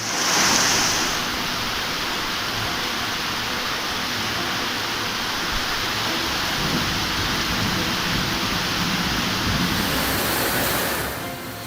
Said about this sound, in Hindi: गलियों में नदी बहने लगी।